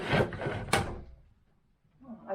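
Closet doors in a house being opened or shut, heard as a couple of quick close knocks and slides in the first second, followed by near silence and a soft rustle at the end.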